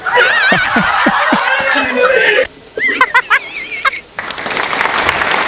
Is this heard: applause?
yes